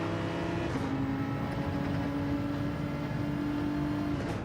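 A race car laps Brands Hatch in the video game Gran Turismo 7, its engine a steady, loud, close drone that holds one pitch and then shifts slightly, with no voices over it.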